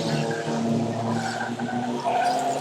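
Stock cars in a bangers race pulling away at a restart, with several engines roaring at once and tyres squealing and skidding, loud and close throughout.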